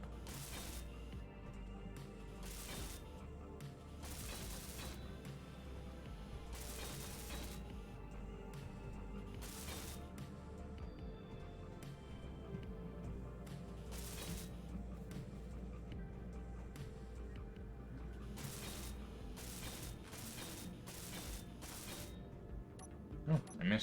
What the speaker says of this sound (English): let's try welding this up